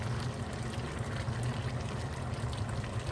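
Lechon sauce poured from a bottle into a cooking pot, a dense continuous liquid gush lasting a few seconds, close and steady.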